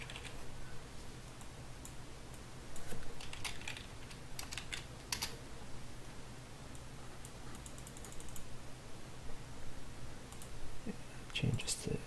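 Continuous typing on a computer keyboard, with a steady run of light key clicks and occasional heavier bursts over faint background hum.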